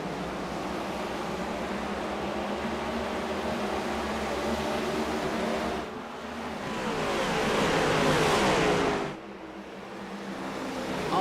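Race car engines roar together as the field accelerates on a restart at Iowa Speedway, a loud sustained mechanical drone that swells around the middle and then briefly drops away.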